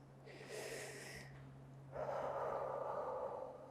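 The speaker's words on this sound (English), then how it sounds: "Deep breathing" Two slow, deep breaths from a person doing seated stretching exercises, first a soft airy inhale and then a louder, fuller exhale, heard close and alone against a faint background hum.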